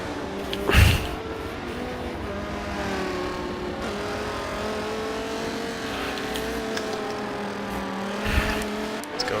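V10 race car engines, including an Audi, howl around a track during an endurance GT championship race in a sustained, high-pitched whine that holds through the passage, with louder swells as cars pass close near the start and end.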